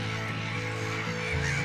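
Steady nasal honking calls from a duck, sustained and tonal with a slight pitch shift near the end, fairly strong and continuous with no speech.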